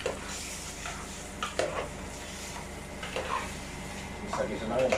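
Squid sautéing in a pan with black pepper, a steady low sizzle with stirring scrapes and a few utensil clinks against the pan, heard close up.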